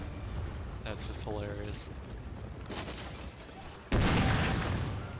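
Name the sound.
cannon shots in Shogun 2 Total War video game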